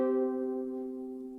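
A ukulele chord with the index finger on the third fret of the bottom two strings rings out alone, a single sustained tone slowly fading over a second and a half.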